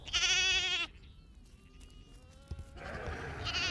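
Young lambs on a Missouri farm bleat in two clear, close, quavering cries separated by a quieter stretch of fainter distant bleats and soft background noise.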